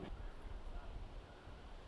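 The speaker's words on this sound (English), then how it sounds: "That wind's coming straight at him" Wind gusting across a disc golf course during a tournament round, a low rumbling buffet against the microphone that stays steady and fairly loud throughout.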